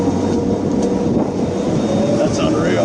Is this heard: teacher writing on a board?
no